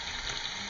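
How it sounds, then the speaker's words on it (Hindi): Potatoes frying in hot oil, a steady hissing sizzle, close and even throughout the short moment, with no talk. "तो यहाँ हम आलू तल रहे हैं"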